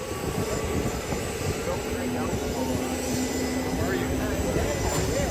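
A seaplane engine drones loudly at an airport, a steady powerful roar that fills the whole stretch without letup.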